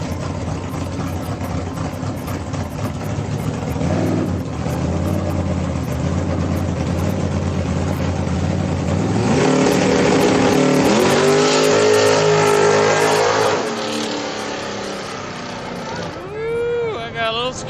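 A street car's engine idles and then revs hard during a test run at a Friday night street car event, climbing through loud sustained pulls before dropping back, with people talking over it.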